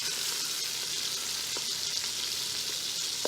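Oxtail frying and browning in a pot produces an even, close sizzle that carries on throughout, broken by a couple of brief stirring scrapes, with nobody speaking.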